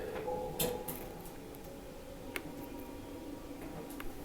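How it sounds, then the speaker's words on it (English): Two or three sharp knocks sound on a wall in the attic of Malvern Manor, spaced apart over a low steady hiss, moderately close and fairly faint. "I tell you what, somebody was knocking."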